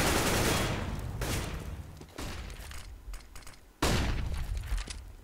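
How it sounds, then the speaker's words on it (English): FAMAS fire in Counter-Strike on the Inferno map, dense bursts of rapid shots with a fresh loud volley near the end, layered with ricochets and clatter of a busy firefight. "This time upon coils, just spamming down with that FAMAS"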